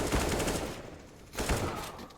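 Pistol gunfire in Counter-Strike: Global Offensive during a competitive match, two quick bursts of shots about a second apart, fairly faint and alone with no talk.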